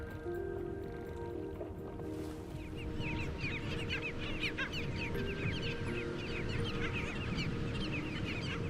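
Nesting wading birds, tricolored heron chicks, snowy egrets and anhinga, giving a busy chorus of squawks and begging calls that overlap throughout over a low rumbling background, moderately distant.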